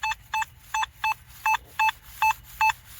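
A Nokta Makro Simplex+ metal detector sounds a series of short, evenly spaced electronic beeps, about nine clear tones in a row over a quiet background.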